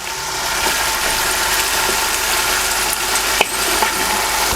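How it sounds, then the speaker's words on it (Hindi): Carrots cut into thin strips and peas fry in a pan with a continuous close sizzle, broken by occasional stirring scrapes and a sharp clack from the utensil. "अब मटरों को हम हल्का हल्का फ्राई करेंगे"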